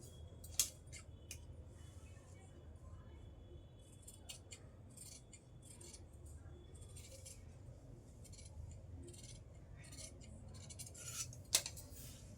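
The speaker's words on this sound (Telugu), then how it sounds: "ఇప్పుడు క్రాస్ పట్టి కట్ చేసుకుందాం." Scissors snipping fabric for stitching, with a handful of faint, sparse cuts and light metallic clicks spread over a quiet, steady low hum, no talking.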